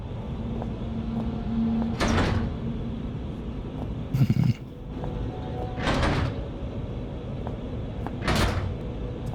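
A jammed door in the Penumbra: Black Plague game rattles and thuds as it is tried, with three or four heavy, evenly spaced jolts and a brief knocking burst between them, over a steady low background hum.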